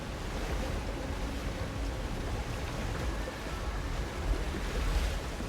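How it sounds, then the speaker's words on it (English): Waterfall in the video game Tunic, a constant broadband rushing wash of falling water, fairly loud and unbroken, with no one talking. "that's just the waterfall"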